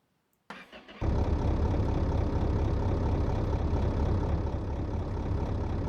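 A fully built stroker inline-six in a drag El Camino, running straight turbo with no exhaust, cranks briefly and then catches into a loud, steady, rumbling idle that holds close and unbroken.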